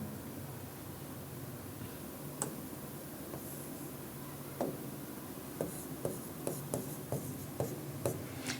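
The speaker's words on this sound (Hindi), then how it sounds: "और थोड़ा अच्छा से लिख देते हैं इसको हम" Chalk or marker strokes on a classroom board during a biology lecture on the menstrual cycle, a soft scratchy writing sound with a series of small taps as strokes begin, fairly quiet against steady room hiss and no talking.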